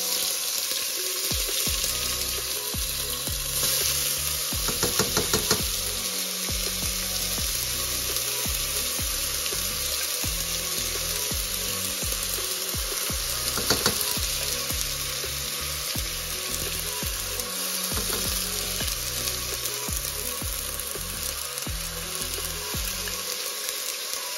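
Olive oil preserved tomatoes frying in a pan, a loud steady sizzle and crackle with occasional scraping and clinks of a spoon, close up throughout.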